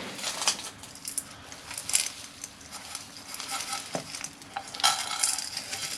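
Granular soil is pushed and scraped into a bonsai pot for a beech tree repot, giving close, gritty scratching and rustling bursts at an uneven pace with a few light knocks, and no talk.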